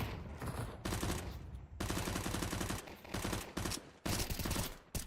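Gunfire in a competitive Counter-Strike match at the Frag Fest playoffs, with dense, rapid bursts of automatic fire broken by brief pauses, loud and close throughout.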